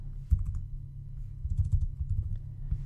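Computer keyboard keys pressed in a short burst of clicks to copy text, a few quick taps then a cluster of close, crisp keystrokes with brief pauses between.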